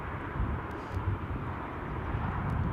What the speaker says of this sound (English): Is the final plane of the show going to start rolling?